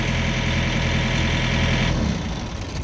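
A 2019 Thermo King S600 refrigeration unit's diesel engine drones loudly at a steady idle, then shuts off near the end, the deep rumble dropping away as it winds down.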